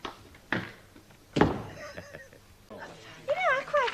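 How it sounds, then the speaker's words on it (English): A door slams shut indoors in a 1970s setting: two sharp, hollow thuds a second apart, followed by quiet room tone and then people talking. "Don't slam the door on the way out."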